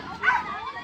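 A Frisbee dog at a fair entertainment show gives a short yip or bark, heard close and moderately loud amid crowd and background noise.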